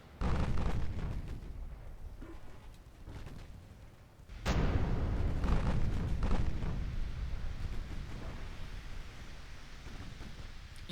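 Heavy naval gunfire from 9.2-inch guns in the warship game Ultimate Admiral Dreadnoughts: a deep rumbling boom cuts in sharply midway over a low, steady battle rumble, then slowly fades.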